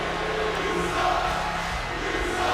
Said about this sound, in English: as he listens to the crowd spill their absolute hatred for him